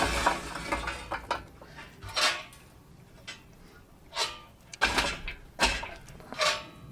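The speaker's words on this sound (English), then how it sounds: "I'm going to be adding more coals than what the slow and sear actually would ask for" Charcoal briquettes are dropped into a grill set up for slow-and-sear smoking a pork butt, giving scattered clinks and rattling clatters in irregular bursts close by with no talking.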